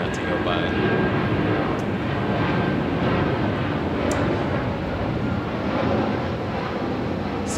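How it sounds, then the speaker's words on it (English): An airplane passing overhead outdoors, heard as a loud, steady broadband roar with wind-like rush that holds throughout. "There's a plane overhead, so I'll wait for that to go by."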